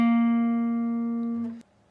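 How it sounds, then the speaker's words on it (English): One picked guitar note at the 9th fret of the D string, sustaining cleanly for about a second and a half before being abruptly damped, with nothing else sounding. "you will then pick the 9th fret of your D 1 time"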